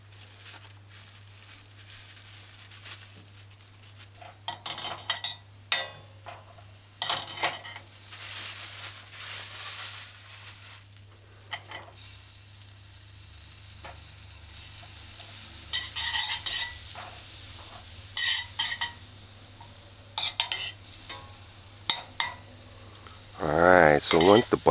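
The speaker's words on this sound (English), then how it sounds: "so you add the butter, 1/4 teaspoon of butter in your heating pot" A quarter teaspoon of butter melts in a hot pot with a soft steady sizzle, broken by scraping stirs and utensil clinks against the pot.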